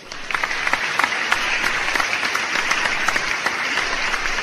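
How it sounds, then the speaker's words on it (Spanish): A lecture audience at a criminology conference applauds to welcome the speaking doctor, a dense, even round of clapping that holds steady for several seconds. "Recibamos con un fuerte aplauso al doctor."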